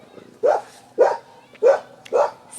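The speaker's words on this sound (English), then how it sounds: "I'm just laughing because of the puppy that is going crazy right now." A puppy barks excitedly four times in an even rhythm, each yap sharp and fairly close, with quiet room background between them.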